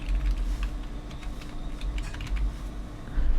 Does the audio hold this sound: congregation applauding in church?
no